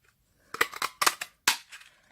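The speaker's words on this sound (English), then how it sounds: "I've got the Pretty Label punch. And all I'm going to do is just cut that out." A Pretty Label paper punch bites through a paper scrap for a crafted notepad, giving three close, sharp clusters of crunchy clicks and snaps in quick succession, with no voices.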